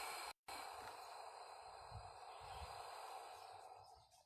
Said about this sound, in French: Et on souffle.